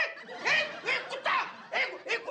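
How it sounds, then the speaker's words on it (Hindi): A dog in a Hindi comedy scene gives several short yips and whimpering barks in irregular bursts, close and fairly loud, with no clear talk over it. "इसे इंग्लिश में डॉग, हिंदी में कुत्ता, गुजराती में कुतरो और मराठी में कुतरा कहते हैं"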